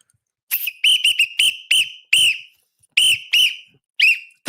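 A loud, close whistle, like a referee's, is blown in about eleven short, sharp blasts, some in quick pairs and others spaced apart, with silence between them.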